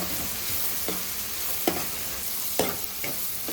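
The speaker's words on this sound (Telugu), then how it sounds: "ఒకసారి అయితే కలుపుకుందాము." A spoon stirs gongura curry with grated coconut in a pan over a steady loud sizzle, with a few sharp scrapes and clinks against the metal and no talking.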